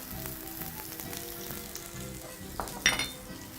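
Ginger and leeks fry in oil in a pan, making a steady close sizzle with brief stirring clatters and one louder scrape near the end.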